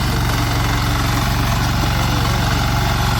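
A tractor engine running in first gear, a loud, steady, low throbbing drone with a constant rhythm, close and uninterrupted for the whole stretch.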